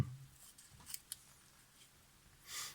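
Small scissors snip slices off a strip of Teflon tape: a few faint, crisp clicks spaced apart, then a softer rustling cut near the end, all quiet and close with no voices.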